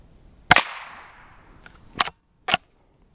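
Three sharp, loud reports from a Rossi Rio Bravo rifle crack out at an outdoor shooting session: one shot with a short decaying tail, then two more close together after a pause, with no talking.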